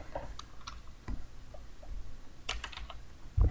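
Fingers tap on a computer keyboard in a few sparse keystrokes, then a quick cluster of clicks, close and fairly quiet against a soft room hum.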